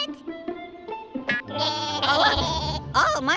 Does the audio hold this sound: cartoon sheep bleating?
yes